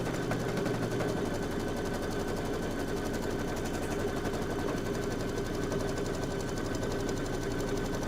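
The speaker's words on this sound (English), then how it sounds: "So I'll go ahead and stitch this. That's going to be your batting placement line." An embroidery machine stitches a batting placement line in a fast, steady, even rhythm of needle strikes, close and continuous with a mechanical hum underneath and no talking.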